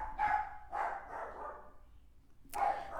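Two dogs barking in a short indoor exchange: a pair of quick barks close together, a pause, then another bark, fairly near and moderately loud with no talk over them.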